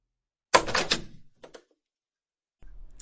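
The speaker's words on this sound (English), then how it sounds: "Can you close the door behind you?" A door being closed: a sharp, close clattering thud followed by a short rattle, then a faint lower rumble near the end, in an otherwise quiet room.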